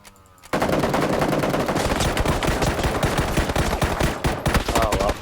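Rapid bursts of automatic gunfire in the video game PUBG, dense and loud after a brief quiet start, with shots overlapping in fast volleys and a short lull near the end.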